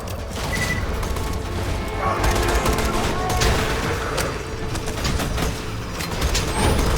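Rapid shotgun blasts and gunfire in Borderlands 2, a busy stream of loud, clattering shots and mechanical clanks throughout, with a voice talking faintly underneath.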